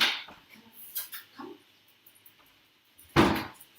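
A pet dog indoors barks a few times and whimpers at a door to be let in, with short close yips, quiet gaps, and one loud bark or knock near the end.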